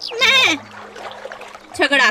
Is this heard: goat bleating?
yes